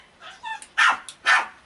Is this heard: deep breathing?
no